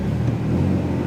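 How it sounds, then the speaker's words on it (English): The V6 engine of a 1999 Chevy S10 plow truck idles and revs with a steady, loud, close low rumble. "Go ahead and rev it a little bit."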